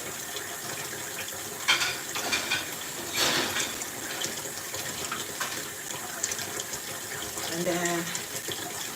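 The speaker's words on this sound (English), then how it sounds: "I have to wash this plate here." Tap water runs steadily into a kitchen sink while a plate is washed, a continuous hiss and splash with clinks of dishware, and a person speaks briefly over it.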